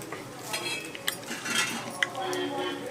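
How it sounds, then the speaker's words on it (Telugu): Metal spatula clinking against a pan while a dosa is flipped, a few light, bright taps and scrapes spread through the moment, close and moderately quiet over soft kitchen background. "అట్టు కాలిన తర్వాత తిప్పేసింది"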